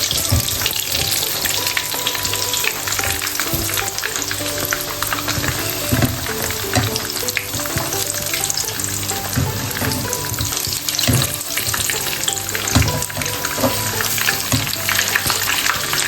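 Stuffed boiled potatoes fry in hot oil on turned-down heat with a loud, continuous close-up sizzle and bubbling, broken by occasional clinks and stirring sounds.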